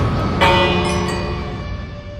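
A village bell in Minecraft rings out with a bright metallic strike, its tone sustaining and slowly fading over about two seconds, fairly loud and alone.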